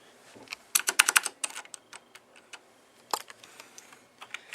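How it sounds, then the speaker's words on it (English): Keys clacking on a Black Widow Ultimate 2013 mechanical keyboard with Cherry MX Blue switches, sharp close clicks coming in quick clustered bursts and then scattered single taps against near silence. "we can see that is Cherry MX Blue"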